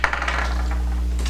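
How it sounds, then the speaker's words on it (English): Dice tumble across a hard surface in a classroom, a quick burst of clattering rattles that fades into a short settling tick and then quiet, with no one speaking. "So, Rhett, go ahead and roll our dice"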